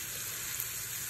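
Seafood frying in a pan for a seafood pasta, a steady close sizzle that runs evenly throughout with no talking.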